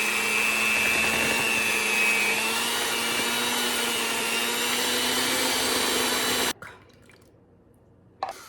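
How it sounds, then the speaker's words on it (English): Electric hand mixer whirring steadily as it beats banana pudding cake batter made with butter, vanilla or banana pudding mix and eggs, a continuous loud drone for several seconds that cuts off abruptly near the end, leaving brief quiet. "we'll continue mixing it until it's all blended up"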